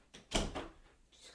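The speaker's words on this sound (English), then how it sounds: "Just closing my door." A room door swings shut with a soft knock and latch click, faint and nearby, with no talking over it.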